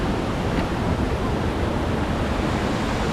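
River water rushing over rocks near a waterfall, a steady dense roar filling the whole clip without pause, close and loud.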